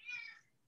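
A pet cat gives a single short, close meow that fades quickly into quiet room noise.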